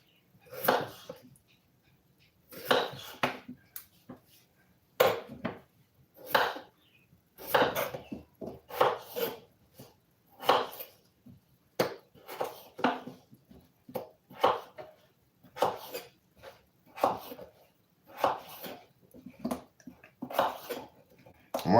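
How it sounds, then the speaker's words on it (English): Vegetables for a stew are chopped into small pieces on a cutting board, producing steady, close knife thuds in regular bursts of several strokes with short pauses between them. "I use the ends and I just cut them into small pieces"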